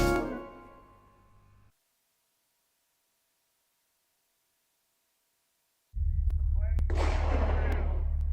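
Gunshots ring out at Thistle Gun Range in Utah, where first-time shooters fire: a loud booming blast fades out, a pause of silence follows, then a noisy outdoor stretch with several sharp, close cracks.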